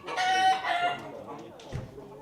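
A rooster in a crowing contest gives a loud, close cock-a-doodle-doo with a ringing, drawn-out call, then quieter clucking and a soft thump as it trails off.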